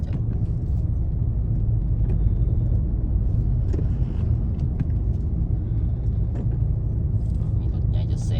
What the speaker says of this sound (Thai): มีรถใหญ่จะแซงให้มันไปก่อน